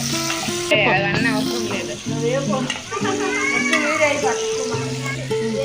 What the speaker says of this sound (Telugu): పచ్చిమిరపకాయలు వేసుకున్నాం. ముందుగా కొంచెం కలుపుకోవాలి బాగా ఏగిన వరకు.